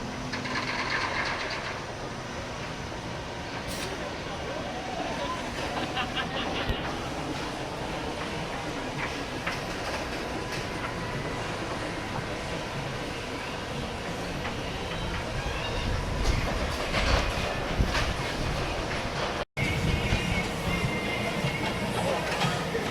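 A B&M floorless roller coaster at Dorney Park, ridden in the back row, gives a continuous loud rumble and rattle of wheels on track, with wind roar and a brief dropout near the end.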